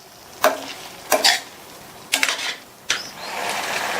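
Mango curry being stirred in a pot after tamarind water is added, four separate scraping, sloshing stirs spaced about a second apart, close and fairly loud, followed by a low simmering hiss.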